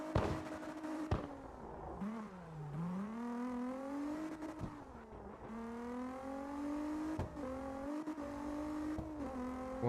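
A car accelerating hard, its engine note climbing steeply through the revs in a smooth whining pitch sweep, then dropping briefly at each gear shift before climbing again, loud and close.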